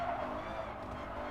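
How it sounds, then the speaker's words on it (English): In Gran Turismo Sport, a Midship Challenge race car's engine over-revs in a continuous, strained high whine, with a tyre-skid hiss layered beneath it and no pause throughout. "there's more over revving than anything"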